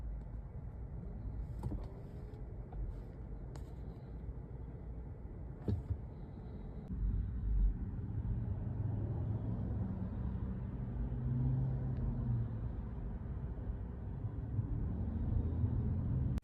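A car being driven in Seminole County, Florida, during an armed carjacking: a steady low road and engine rumble fills the cabin, with a few faint clicks early on and no voices.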